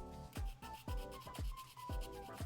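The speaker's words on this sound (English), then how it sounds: "And let's get this sanded." Steady back-and-forth rasping of sandpaper on a small garage kit figure part, in repeated strokes roughly every half second, close and clear over faint background music.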